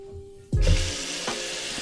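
A tap bursts on and water gushes loudly into a sink or basin for washing clothes in a hotel room, a steady rushing stream after a quiet start, with a brief knock partway through.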